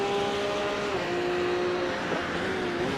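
A Porsche Supercup race car engine in a racing video game at Hockenheim, a steady high onboard drone with slight pitch dips from gear changes, loud and continuous.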